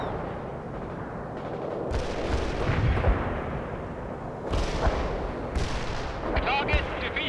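Artillery fire in the World in Conflict video game, a series of heavy booms and rumbling blasts over a dense battlefield din, with radio-style voices talking over it.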